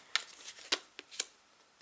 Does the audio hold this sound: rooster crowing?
no